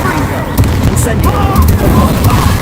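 Incendio fire spell cast in the video game Hogwarts Legacy, heard as a dense rumbling burst of flame and impact booms with crackling pops, loud and continuous.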